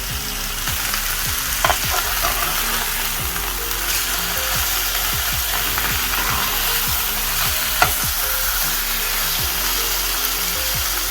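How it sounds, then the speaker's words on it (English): Mozzarella-stuffed chicken fries loudly in a pan with a steady, dense sizzle, while occasional scraping clicks and taps from flipping run through it; no one speaks. "we're going to fry them about 6 to 7 minutes on each side"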